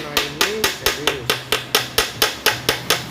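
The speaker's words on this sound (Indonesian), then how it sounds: "kemudian kita palu di bagian baut pedas starter ya" Hammer blows on the starter bolt of a motorcycle engine: about thirteen sharp metallic strikes in a steady, even rhythm, loud and close, with faint talk underneath.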